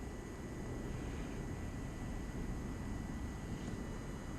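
A drone flies during auto-landing over a golf course on a chilly November evening, a constant, even rushing hum of rotors with wind-like noise and no breaks.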